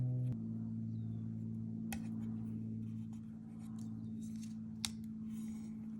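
Scissors snip away the overhanging edge of a PET sticker on a handmade card, a few soft close cuts over a steady low hum, with no talking.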